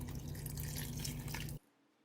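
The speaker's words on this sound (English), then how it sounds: "to your pot, you're going to go ahead and add your 2 cups of water" Water being poured into a cooking pot, a steady close splashing stream that cuts off sharply near the end, leaving quiet.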